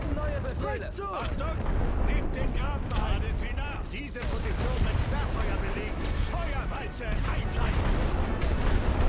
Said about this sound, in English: We are taking fire from somewhere.